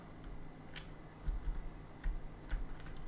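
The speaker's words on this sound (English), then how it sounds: "Wait, stop clicking." Sporadic clicks from a computer keyboard or mouse during a game livestream, a few sharp, separated ticks over a low background hum.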